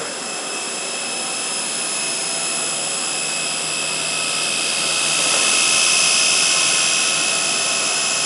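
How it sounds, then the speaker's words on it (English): A jet aircraft engine running close and loud, a steady high roar with a broad whine that swells slightly toward the end and continues unbroken. "You got a lot more faith in the stability of that aircraft than I do."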